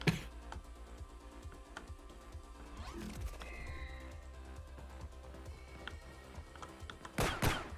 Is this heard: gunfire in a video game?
yes